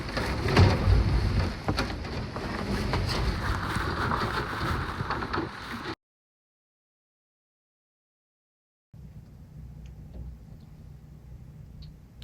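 Hurricane Milton's wind whips hard at night, a loud, roaring rush with gusty buffeting against the microphone. It cuts to silence, then returns as a fainter, steadier howl.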